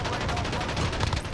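A PKP machine gun fires in Call of Duty Modern Warfare 3: a loud, continuous burst of rapid shots that fills the whole moment with dense, rattling gunfire.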